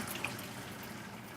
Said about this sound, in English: I'm pouring this into the sink